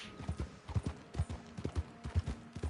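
Horse hooves clip-clopping at a steady trot in the Old West setting of the video game Red Dead Online, a close, regular rhythm of low thuds with occasional faint snorts.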